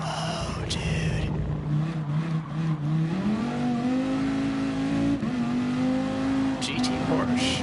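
A GT Porsche race car engine in GT Sport, loud and close, with a sustained droning tone that climbs steadily in pitch as it accelerates, plus a couple of brief squeaks, and no talk over it.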